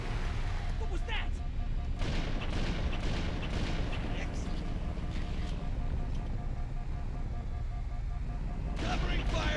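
Gunfire rattles through a Halo: Combat Evolved firefight, dense bursts and booms filling the whole stretch while voices shout over the shooting.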